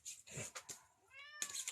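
A talkative pet cat meows several times in a short close run, clear rising and falling calls with a brief pause between them, heard alone with no talk.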